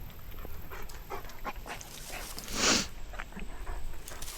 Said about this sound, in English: Oh, they got a dog.